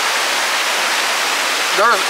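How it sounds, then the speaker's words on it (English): Creek water rushing steadily beside site 64 at Indian Creek Campground near Cherokee, North Carolina, a constant broadband wash, with a brief voice near the end. "it is along the creek side, as you can tell"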